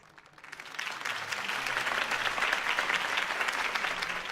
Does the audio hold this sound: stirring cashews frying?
no